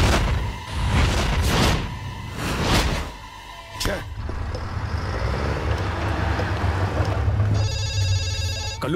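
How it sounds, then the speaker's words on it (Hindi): A telephone rings near the end with a rapid electronic trill, after whooshing sounds and traffic noise, and voices speak earlier. "कल्लू भाव का फोन है, उसे काट डाला।"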